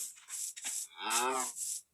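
A Minecraft cow gives a drawn-out, wavering moo amid softer breathy game noises, close and clear with no talking.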